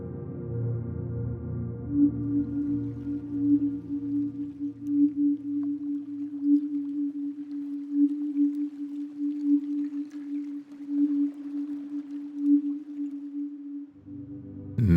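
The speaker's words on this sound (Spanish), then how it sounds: "288 Hz. Se cree que esta nota tiene un efecto estimulante y energizante." A sustained 288 Hz healing tone on the note D holds steady for about twelve seconds, soft and pure with slow pulsing swells, playing alone without any voices.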